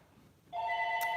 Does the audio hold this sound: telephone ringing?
yes